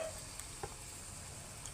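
Ladlefuls of malpua batter frying in hot oil, giving a steady, fairly quiet crackling sizzle with a few small pops, heard close up.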